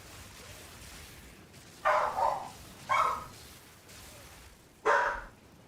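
Dogs bark excitedly at someone arriving home, three separate bursts of barking spaced a second or two apart, moderately close, over a quiet room hum with no talk.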